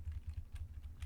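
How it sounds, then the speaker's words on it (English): Computer keyboard typing during a Twin Saga private-server game stream, steady rapid key clatter close to the mic with soft thuds, continuous through the short stretch. "I'm typing something to someone"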